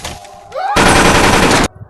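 A clown fires a rifle at everyone in the horror film Terrifier 2: a loud, close, sustained burst of gunfire lasting about a second, cutting off sharply after brief rising tones.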